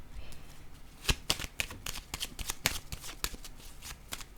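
Tarot cards are shuffled by hand in a quick run of crisp riffling snaps and soft flicks, close and fairly quiet, with no one speaking.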